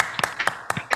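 A conference audience applauds two speakers with a few scattered claps, sharp bursts at uneven intervals over roughly a second, moderately close.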